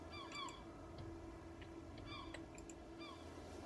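Birds honk and call in a survival-at-sea game, short repeated goose-like cries in small clusters, fairly faint and distant over a steady background ambience.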